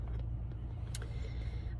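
Steady low road rumble inside a moving car runs throughout, with faint cabin noise and a brief high click near the middle, no talking.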